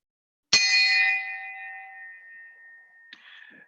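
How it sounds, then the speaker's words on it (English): A memorial bell rung at a Rotary club gathering: one clear metallic strike that rings out and slowly decays over about two seconds, followed by a second, softer strike near the end. "And this morning, I ring this bell in honor of Rotary Oakland number 3 treasurer, Gene Zahas"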